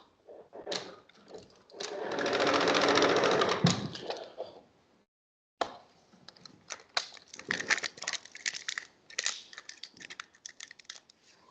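A Picote smart cutter pipe renovation machine spins up with a loud whirring burst that swells for about two seconds, then stops. It is followed by rapid, irregular clicking and rattling bursts.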